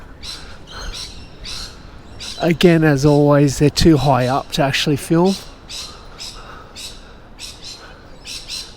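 Lorikeets squawking up in city trees in Sydney, a burst of harsh, rapid, overlapping calls fairly near and loud, with someone talking before and after the squawks.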